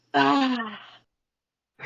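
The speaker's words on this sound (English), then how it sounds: "just take like a big yawn" A big yawn voiced by a tabletop roleplaying player, one long drawn-out exhale that falls in pitch and fades, followed by silence and the start of another sound.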